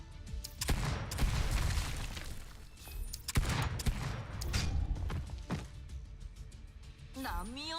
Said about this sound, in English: Stealth shotgun.